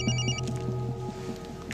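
A telephone rings with a bright electronic trill in short repeated bursts, close and clear over a quiet room tone, with no one talking over it.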